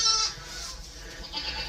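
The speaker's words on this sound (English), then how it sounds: "we got some baby goats overnight" Newborn baby goats on a farm, bleating in a few short nasal cries close by, the first loudest and the rest softer, with no talking.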